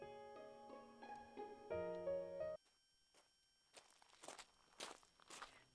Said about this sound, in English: Suddenly, I hear footsteps.